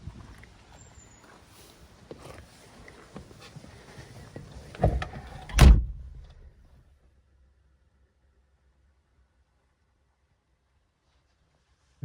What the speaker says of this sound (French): la façon d'ouvrir la porte est bizarre comme d'habitude. C'est une gâchette qu'il faut tirer comme ça